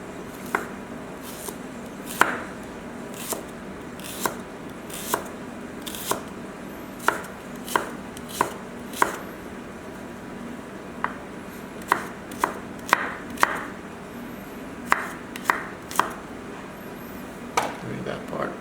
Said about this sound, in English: Next, we are going to chop the shallot, which I put earlier is 2 shallots.